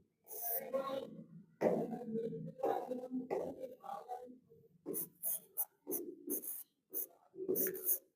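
Handwriting with a pen, heard as scratchy bursts of strokes in short uneven runs separated by pauses, with speech around them.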